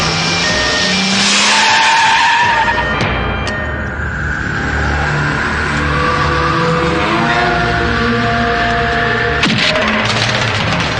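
A car skids hard to a stop, loud close tire squeal and engine roar sustained for several seconds in a dubbed movie scene, with a final screech near the end.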